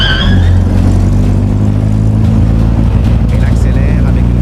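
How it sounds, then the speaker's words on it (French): Mercedes G63 SUV accelerating on the road, a loud, steady low engine drone that holds throughout with a slight rise, close and continuous, under a voice. "Elle accélère avec une facilité étonnante, presque comme une voiture sportive"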